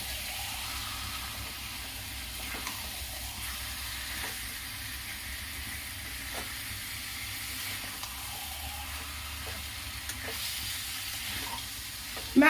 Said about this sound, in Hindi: इसको डालने के बाद अच्छी तरह चला दीजिए, खूब अच्छी तरह चला दीजिए।